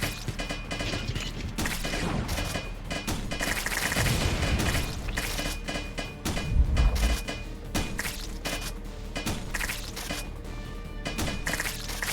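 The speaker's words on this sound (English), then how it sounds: "the shotgun so far is absolutely amazing" Repeated shotgun blasts and impact crashes from the video game Wall World pound loudly and densely over a steady mechanical backdrop.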